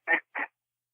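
Two short, loud duck-call blasts blown as a greeting call to incoming waterfowl, a pair of raspy quacks in quick succession followed by silence.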